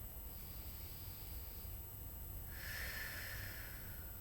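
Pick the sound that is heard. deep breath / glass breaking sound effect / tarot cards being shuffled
deep breath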